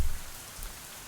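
Rain falling on a trail toward a bridge, a steady dense hiss of drops, fairly soft and alone, opening with a brief low thump.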